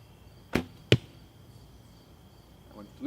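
Two sharp arrow releases from a 35-pound bow shooting Gold Tip Traditional Classic XT arrows, each a crisp close snap about half a second apart, with faint outdoor ambience and a brief voice at the end.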